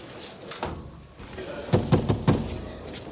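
Several sharp knocks on a door in a prison cell setting, a quick series of hard raps after a quieter stretch of room noise and brief voice sounds.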